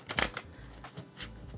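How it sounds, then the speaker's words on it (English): Tarot deck being riffle shuffled, with quick papery flutters and soft card riffles in short bursts, close and fairly quiet. "I don't always riffle shuffle, but I did want to show you that you can actually shuffle"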